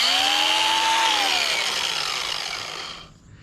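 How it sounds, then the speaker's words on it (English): A hand grinder works into a wooden rifle stock, a loud steady whine with a falling pitch as the tool spins down and fades out near the end, with no talking. "Now hit them stubborn parts with your grinder."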